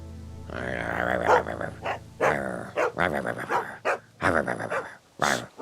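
In The Walking Dead video game, a dog lets out a run of loud, close barks and growls in irregular bursts with short pauses, whimpering between outbursts.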